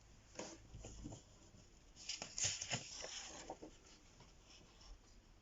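A pen draws a faint circle on paper, a soft scratchy rub of tip on page in a few short strokes, quiet and close, with no voices.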